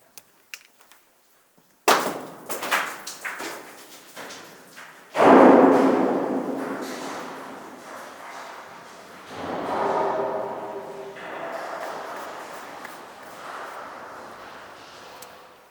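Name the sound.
large rock thrown down a mine shaft chute, falling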